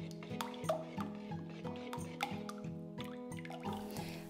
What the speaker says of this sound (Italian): si è separato un po' l'uovo, rimescoliamo il tutto